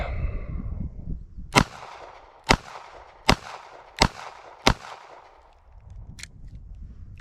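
Five sharp, loud shots from a Smith & Wesson Model 642-1 snub nose revolver ring out at roughly even intervals with a ringing decay, followed by a fainter sixth crack.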